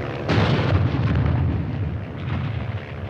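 Artillery fire explodes in a war film setting, a deep booming blast followed by a rumbling decay and a softer second thud.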